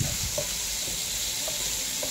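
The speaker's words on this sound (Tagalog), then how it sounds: "naggisa na ta anig mga lamas, ahos, sibuyas, kamatis" Garlic, onion and tomato sauté in a small pan, giving a steady, close, bright sizzle with faint pops and occasional stirring sounds.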